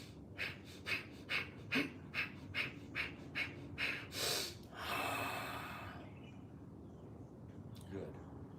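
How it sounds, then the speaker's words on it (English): Forceful Bhastrika bellows breathing during a group yoga session: about eight quick, evenly spaced nasal exhalations, loud and close, followed by a long drawn-out breath and a quiet pause before one more breath. "Now that breathing I was making right there, that was our Bhastrika. Bhastrika is that bellows breath."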